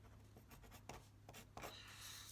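Pen or pencil scratching on paper, writing out a scale factor label for a geometry problem, with soft strokes and a few sharper taps over a low, steady background hum.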